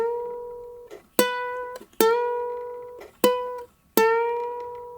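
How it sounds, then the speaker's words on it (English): Ukulele notes plucked on the E string at the 5th fret and bent up a whole step, five bright plucked tones in an uneven rhythm, each ringing briefly before the next, close and clear with no talking. "you're bending that string up till it sounds like that note, a whole step up."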